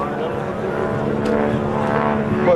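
A radial-engine airplane flying a dirty roll with landing gear extended at an airshow, its engine a continuous throbbing drone with rich harmonics, fairly loud, while a commentator talks over it.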